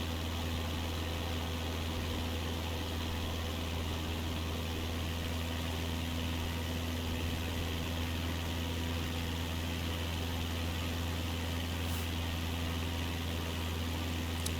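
Steady propeller aircraft engine drone inside a flight simulator cockpit during a bush trip over the Balkans, a constant loud hum with a low steady tone and no change in pitch throughout.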